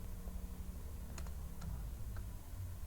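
Someone types a short terminal command on a computer keyboard, a few quiet close key taps in a brief cluster over a soft background hum.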